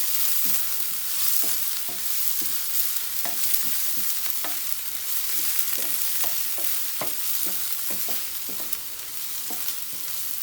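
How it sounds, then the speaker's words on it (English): Ginger and garlic with green chili sautéing in a hot pan, a steady sizzle broken by repeated scraping and tossing clicks from stirring. "and the ginger garlic. Just toss it for 2 minutes just to get rid of the raw smell."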